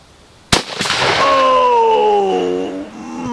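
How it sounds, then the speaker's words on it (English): A single sharp, loud gunshot from a sporterized military surplus rifle firing surplus ammunition, a sudden crack followed by a long ringing, rolling echo that fades over about three seconds outdoors. "This is just surplus ammunition that I'm firing here."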